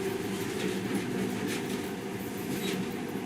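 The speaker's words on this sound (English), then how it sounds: "In the past, trains were ordinary things, but now, this monorail seems magic, doesn't it?" A monorail train in Metro: Last Light rolls steadily through a tunnel, a continuous mid-level rumble with faint rail noise and no distinct clacks, heard alone.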